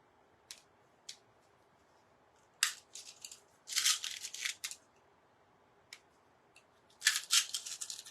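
Small glass beads set down one by one on a glass art piece, giving sharp little clicks and clusters of clattering taps with quiet pauses between, close and fairly faint.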